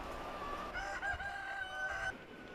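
Free-range egg-farm chickens: a short rooster crow rising and holding for about a second and a half, mixed with soft clucking from nearby hens, moderately near and alone.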